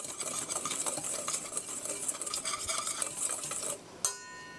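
Batter for ricotta scones, seasoned with pepper, is stirred in a bowl, giving a steady scraping and clinking of utensil against the dish that runs continuously, close and moderately loud, with a sharp knock near the end.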